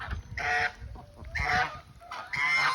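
Backyard chickens, including a male Lavender Orpington, squawking in three loud, harsh, honking bursts close by, with short quieter pauses between the calls.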